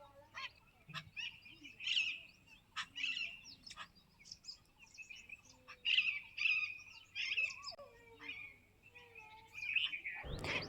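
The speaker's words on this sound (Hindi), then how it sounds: "बिल्कुल शांत, चिड़ियों की चहचहाट और कोई भी किसी भी तरह का कोई शोर नहीं होता है" Birds chirp and tweet over and over with repeated calls, some goose-like honks mixed in, in a quiet Himachal village beside ripe wheat fields; calls come in bursts at moderate distance, with a short thump near the end.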